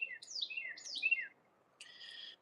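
Birds sing in a garden, giving two bright descending whistled phrases followed after a pause by a higher chirping call, clear and moderately near over quiet background.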